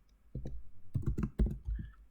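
Typing on a computer keyboard during symbolic computation work, a few scattered key clicks followed by a quicker burst of taps, close and fairly soft, with no talking.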